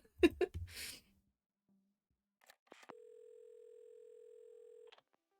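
A telephone in a video game is picked up after a few brief clicks and breaths, then a steady electronic dial tone hums alone for about two seconds before cutting off, quiet and clean.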